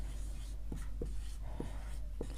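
A pen scratches across paper in a quiet room, four or five short faint strokes spaced apart, with a low steady hum underneath.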